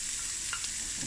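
Chopped onion frying in heated oil, a steady soft sizzle with a faint clink partway through, brief and without speech.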